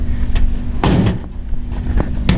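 A worn-sealed door on an old Chevrolet squarebody truck rattles and knocks loosely, several sharp close clacks and thumps in quick irregular succession.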